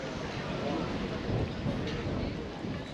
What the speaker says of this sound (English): It's that time of the day when storms start rolling in